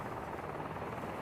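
A helicopter at Ikhrov makes a steady, close, loud whirring drone with dense broadband rotor and engine noise and no pauses or talk.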